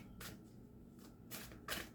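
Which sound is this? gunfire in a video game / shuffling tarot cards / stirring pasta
shuffling tarot cards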